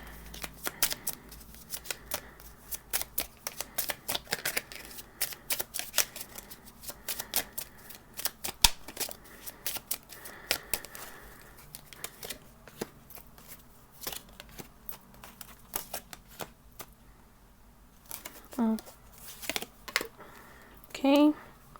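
A Lenormand deck of cards being shuffled in repeated riffling bursts, close and crisp, with a voice speaking briefly near the end.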